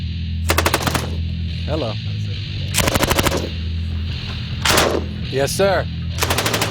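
Automatic gunfire bursts out loud and close at a desert military training ground, several rapid rattling volleys separated by pauses, with brief talk and exclamations between them.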